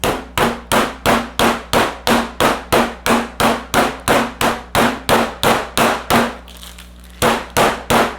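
Rolling pin pounding chicken breasts sealed in a plastic bag, about two dozen sharp, loud thuds in a steady rhythm of roughly three per second, pausing briefly once before resuming.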